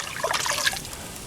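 Water runs and splashes from a tap while a soot-covered cast iron pan is being washed, a close, continuous trickling and spattering with no voices.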